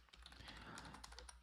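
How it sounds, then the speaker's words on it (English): Soft, rapid keystrokes rattle on a computer keyboard as a link is typed in, a quick continuous patter of clicks over a low steady hum. "I'm typing the link in there for you guys right now."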